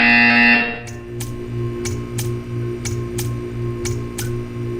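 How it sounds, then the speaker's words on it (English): A harsh electronic buzzer in the video game Portal 2 blares for half a second, then gives way to a steady ticking pulse over a low droning hum. "When you hear the buzzer, stare at the art."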